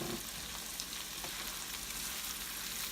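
Vegetables sizzle steadily in oil in a pan for eggy rice, a continuous close hiss with faint crackles and no talking.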